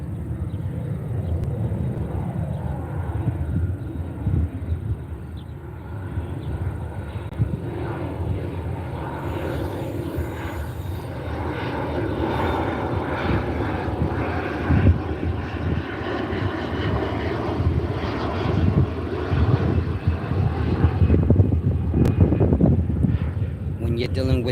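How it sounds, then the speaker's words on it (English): A fixed-wing airplane drones overhead for the whole stretch as a broad, steady engine rumble that builds slightly toward the end, with wind buffeting the microphone. "I'm gonna let this plane pass."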